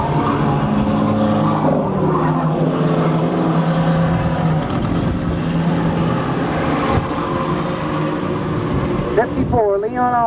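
Race cars run three wide down the backstretch of an oval track, engines roaring in a steady, loud drone throughout, with a commentator talking over the noise.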